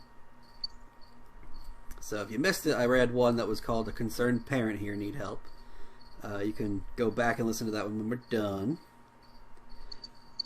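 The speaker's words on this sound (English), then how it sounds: "I'm sorry if you hear that cricket behind me." A cricket chirps faintly and steadily in a room, a thin high trill running under a person's talking and carrying on through the pauses.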